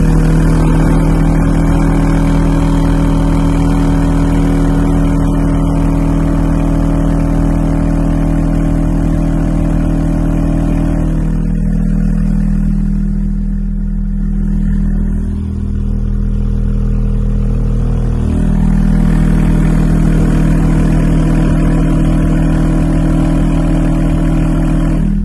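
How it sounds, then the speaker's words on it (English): A 40 Hz test tone drives an 18-inch subwoofer in free air, pushed up to about 2400 watts near clipping: a loud, steady low drone that holds constant, dips briefly midway and then resumes at full strength, with no talk. "right now we have a 40 hertz frequency on"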